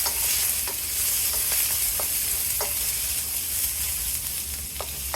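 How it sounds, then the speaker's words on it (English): Pre-cooked Chinese barbecue pork is stir-fried into chow mein: a continuous, close sizzle punctuated by occasional light clicks and scrapes of stirring, with no voices. "Mixed in the pre-cooked Chinese barbecue pork"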